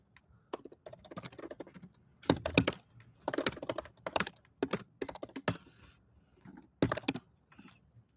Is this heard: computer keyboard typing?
yes